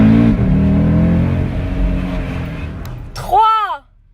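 A car engine held at steady revs, droning loudly and close with a slight fall in pitch, then cut off as a voice speaks briefly at the end.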